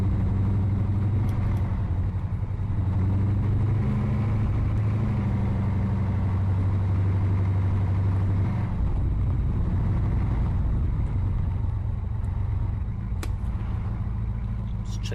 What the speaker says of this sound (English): So it's quite loud, the vehicles.